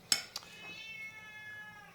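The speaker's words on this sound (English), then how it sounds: "that's my kitty." A pet cat gives a short, faint meow in a home kitchen, preceded by a couple of quick sharp clicks, then fading into quiet room tone.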